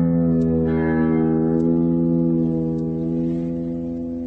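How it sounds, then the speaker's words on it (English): An electric guitar's low E string rings out loud and sustained, its pitch slowly drifting as the tremolo sags forward, heard alone without talk. "Listen to my low E as it dives in pitch."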